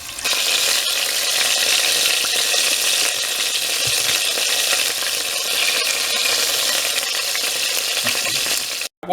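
Rabbit pieces sear in about half a cup of hot oil in a pot, a loud, continuous close sizzle and crackle that holds steady before cutting off abruptly at the end.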